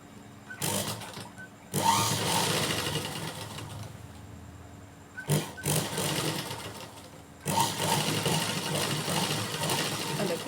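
Sewing machine stitching a folded fabric hem, close and loud: several runs of rapid mechanical whirring and clatter, broken by brief stops and a couple of sharp clicks, with a low steady motor drone underneath.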